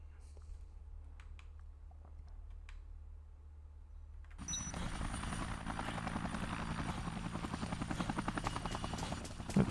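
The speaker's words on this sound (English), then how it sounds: "Did the chopper come back?" Helicopter in the video game Dead Rising, quiet at first, then a loud, steady rotor thrum with rhythmic chopping fades in and holds under faint game sounds.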